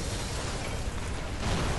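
Blast effect from bounty hunters attacking in a Doctor Who audio drama: a dense, loud, sustained roar of broadband rumble with a heavy low-end boom that swells again near the end, no voices over it.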